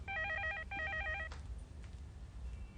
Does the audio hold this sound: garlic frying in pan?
no